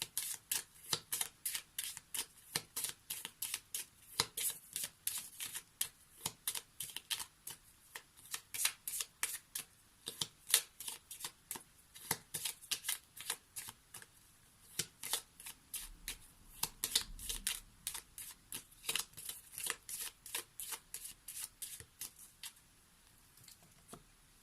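Lenormand cards are shuffled by hand over a long stretch, with rapid bursts of crisp riffling and slapping separated by short pauses, close up and with no talking.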